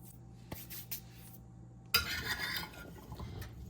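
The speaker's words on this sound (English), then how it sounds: "Mix that all up so everything's nicely coated." Squash being tossed with oil, ground pepper and thyme in a kitchen bowl: a few soft taps early on, then a burst of scraping, clinking stirring that continues unevenly, fairly quiet and close.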